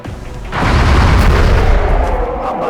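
Gunfire in the strategy video game X-Com: Enemy Unknown: a heavy, booming shot that erupts after a quieter start and rolls on as a dense, sustained rumble with a sharp crack in the middle, loud and close.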